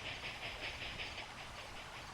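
Steady hissing steam and low rumble from a stopped steam locomotive in the video game Railroad Tycoon 3, a continuous pulsing hiss with no talk.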